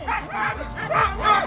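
Sled dogs bark and yip eagerly before a race start in Val Cenis, several quick rhythmic barks close by in a short burst, with a voice over them.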